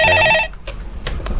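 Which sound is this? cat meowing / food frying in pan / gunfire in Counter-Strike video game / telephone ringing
telephone ringing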